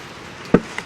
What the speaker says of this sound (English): Oh, just now drop my spoon.